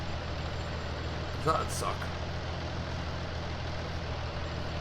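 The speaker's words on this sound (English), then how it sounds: "Fingers crossed I get this in the shed before the tractor runs out of diesel." A tractor engine drones steadily in Farming Simulator 19, a constant low rumble running through the whole stretch while someone speaks briefly over it.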